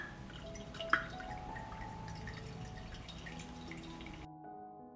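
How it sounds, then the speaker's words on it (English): Homemade cheese pressed under a heavy object drains on a plate, liquid falling in sparse faint drips with one sharper drop early, quiet and close, before cutting to near silence. "let the cheese drain well and cool"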